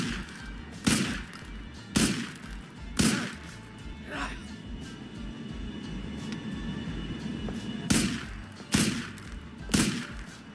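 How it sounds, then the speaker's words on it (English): Gunfire in a GTA video game as Niko shoots Darko: sharp, loud single shots fired at uneven intervals, three early and three later, over a low background rumble. "how many bullets Nico puts into Darko here"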